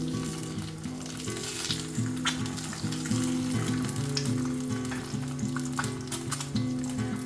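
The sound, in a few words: half-fried eggs sizzling in oil on a tawa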